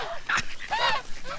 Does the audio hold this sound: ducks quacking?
yes